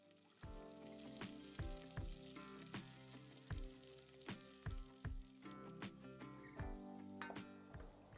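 Cumin seeds and ground paste fry in a pan, a faint sizzle broken by repeated sharp crackles and pops at a loose, rhythmic pace.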